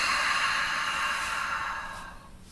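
A long, slow exhale through the mouth during a yoga breathing exercise, an airy breath close to the microphone that gradually fades away.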